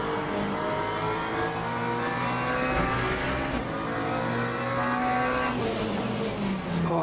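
A race car in Le Mans Ultimate roars at steady high revs, with engine tone sweeping as it brakes and tyres squealing along the way, a continuous loud drone with no speech on top.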